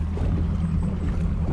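A fishing boat idles on a lake during winter crappie fishing, giving a steady low engine rumble with a hum of water and wind over it, continuous and close with no talk.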